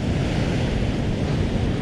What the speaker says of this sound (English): Never take your eye off the incoming surf